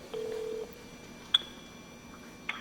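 A telephone being dialed for a call: a steady tone followed by two short, sharp dialing beeps spaced apart, fairly quiet and with no one talking.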